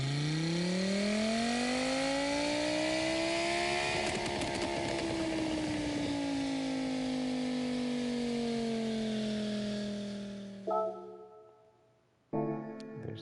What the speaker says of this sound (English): There's the engine rev.